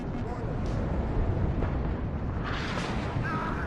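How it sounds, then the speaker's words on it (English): Rumbling artillery explosions in the real-time strategy game WARNO, a dense continuous roar of blasts and impacts with crackling bursts, sustained and fairly loud throughout, with a voice talking over the battle. "And this artillery fire really helpful as well."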